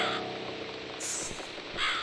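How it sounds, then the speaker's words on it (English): A crow caws in a scene from The Cat Lady game, two bright harsh calls, one near the middle and another at the end, sounding fairly close over a steady low background hum. "It's this damn bird again."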